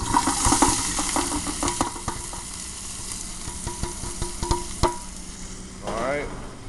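Celery with its leaves, onion and carrots hitting a pot of hot oil, giving a loud, dense sizzle with clattering stirring strokes that fades to a steady frying hiss, heard alone.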